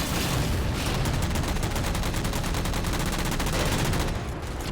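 Battle mech in Halo 4 unleashing a rapid volley of charged missiles, a dense, loud stream of rattling bursts and booms that run continuously before tapering off at the end.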